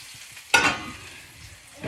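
Eggs frying in a home kitchen pan, a sudden loud sizzle bursting up as they hit the hot surface, then settling into a steady, softer crackle close by, with another swell at the end.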